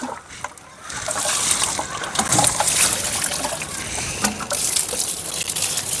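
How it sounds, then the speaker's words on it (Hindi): Water gushes steadily from a can onto freshly planted vegetable seedlings in soil, a close, continuous splashing pour that starts after a brief pause. "इस तरीके से हमने इसमें पानी अच्छे से डाल दिया।"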